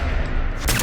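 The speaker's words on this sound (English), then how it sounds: "I might actually just shoot for the legs." Gunfire from the Fallout 4 video game, a loud, dense burst of shots heard close up with a sharp report near the end.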